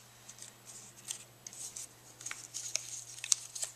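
Scissors snip through paper while making a handmade mini album, a close, quiet run of crisp cuts that cluster and repeat at an uneven pace, with no talking.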